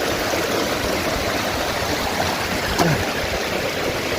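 Continuous rushing water flowing out on its own, a steady close gurgling stream with one brief higher splash or squeak near the end.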